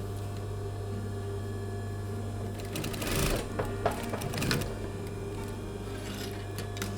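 A sewing machine runs steadily, stitching pleats through two layers of men's shirt fabric for a cummerbund-style belt on a halter neck dress, with a louder burst of rapid needle chatter midway and no talk.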